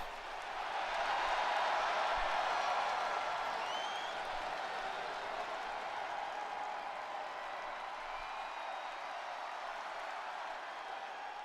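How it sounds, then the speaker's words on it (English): A wrestling arena crowd roars and cheers during a women's battle royal match, a broad sustained wash of noise with scattered clapping and whistles, swelling early and then holding steady at a distance. "the crowd going absolutely crazy, loving her enthusiasm as she runs around the ring, amping the crowd up"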